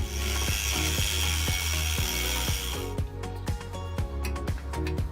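A copper cooling block for a homemade water-cooled PS5 Slim notebook is cut by hand, giving rhythmic, evenly spaced sharp strokes over a low hum, near and loud, with one brief spoken word.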